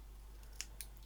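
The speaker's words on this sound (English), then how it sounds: "Scissors are blunt as fuck." A pair of blunt scissors snips twice at crafting material, two short quiet crisp cuts about a fifth of a second apart over a low steady background hum.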